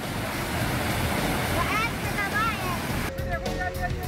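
Rushing floodwater from monsoon-swollen rivers pours through hill villages, a steady broadband roar filling the whole clip, close and loud, with brief faint tonal chirps and some background voices late on.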